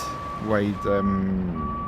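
A truck in a video-game oil field sounds steady electronic reversing beeps over a low engine rumble, with a voice talking over the middle.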